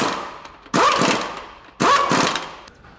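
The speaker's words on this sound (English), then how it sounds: "make sure she's all tight after I've run it in with a rattle gun" Pneumatic rattle gun running in flywheel bolts on a TD42 engine from a GQ Patrol, two loud close bursts of rapid hammering impacts, each lasting about a second, separated by a quiet pause.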